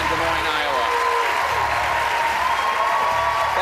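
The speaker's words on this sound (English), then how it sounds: "It's a very rowdy crowd." A rowdy crowd at a CNN presidential candidate town hall with a senator at Drake University in Des Moines, Iowa, claps and cheers in a dense, loud, continuous roar, while someone talks over the applause.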